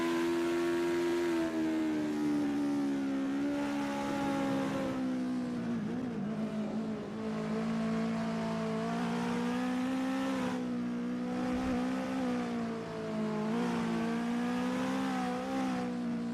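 A US Legend race car laps Charlotte in a racing game, its engine droning steadily with a buzzing, slightly shifting pitch as it rounds the turns, loud and continuous without breaks.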